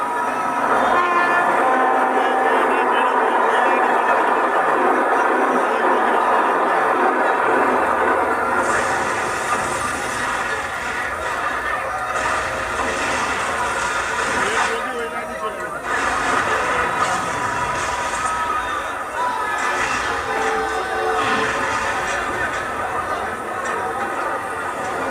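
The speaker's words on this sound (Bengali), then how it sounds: "ছুটে আসে হাওড়া যশবন্তপুর এক্সপ্রেস।" The Howrah–Yesvantpur Express races along the rails, a loud sustained roar of wheels and rattling carriages with the horn sounding over it, and a voice talks throughout.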